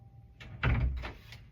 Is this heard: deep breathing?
no